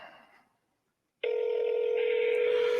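A telephone call placed on speakerphone: a short faint tone, a brief silence, then a loud, steady ringing or dial tone that holds to the end.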